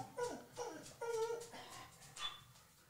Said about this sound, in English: My dog's crying.